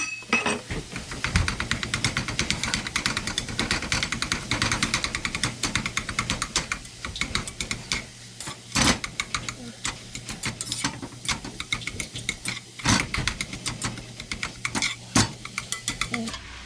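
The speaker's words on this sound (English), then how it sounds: "hop in there with a spatula and start chopping that sausage up into little tiny pieces" A spatula scrapes and chops browned sausage in a skillet, dense clattering metal-on-pan strikes and stirring over steady sizzle, up close and continuous with a few sharper knocks.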